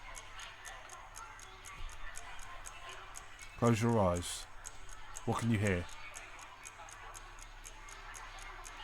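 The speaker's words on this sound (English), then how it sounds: "I can hear my clock on my wall" A wall clock ticking steadily in a quiet room inside a horror video game, its regular ticks running throughout, briefly overlapped by a voice speaking twice near the middle.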